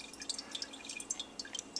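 Orange juice drains through a strainer in quiet, scattered drips and small trickles, faint and close, with no talking.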